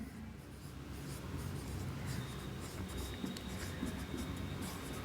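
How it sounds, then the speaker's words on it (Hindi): Chalk or marker scratching steadily across a board during a biology class, a continuous close scraping and tapping under faint room noise, with no talk. "तो यहां पर लिख लेंगे"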